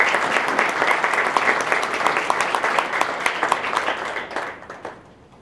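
An audience at an indoor innovation event in New Hampshire claps warmly to welcome Senator Maggie Hassan, a dense, steady round of applause that fades out near the end.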